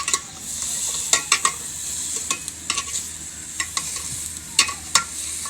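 A spoon stirs meat cooking in a pot over a village fire, with steady sizzling and repeated sharp metallic scrapes and clinks against the pot.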